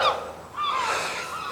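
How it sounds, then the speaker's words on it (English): Seagulls calling near a shooting spot, a couple of short, harsh squawking cries rising and falling over faint outdoor background, with no talk. "Right, ignore all the seagulls."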